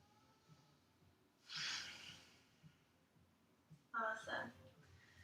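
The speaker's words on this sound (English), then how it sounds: "Breathe here." Someone breathes during a yoga flow, with two loud exhales heard up close, one after about a second and a half and another near the end, and soft clicks and faint movement sounds between them.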